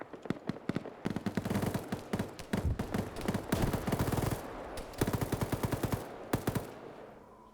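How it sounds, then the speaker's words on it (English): Video game gunfire crackles in rapid automatic bursts and single shots, loud and close, dense through the middle with brief pauses, no talk over it. "Oh, they are outright shooting through."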